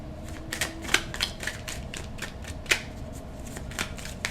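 Tarot cards are gathered and shuffled back into the deck, a run of soft, close, irregular flicks and taps with a few sharper snaps, alone without talk.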